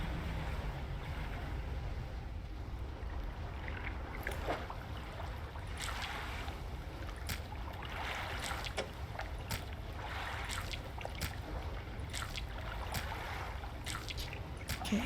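Low, steady engine rumble of a fishing boat in the video game DREDGE, continuous under faint water and wind-like noise, with sparse clicks, no voices.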